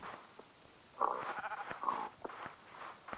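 Sheep in the video game Minecraft bleat in short, close, moderately loud calls, a couple of distinct bleats over a quiet background.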